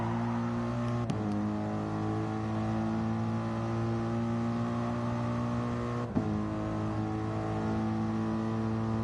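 A race car engine drones steadily at Le Mans, a strong harmonic whine holding nearly constant with two brief shifts, sounding close and continuous with no voices.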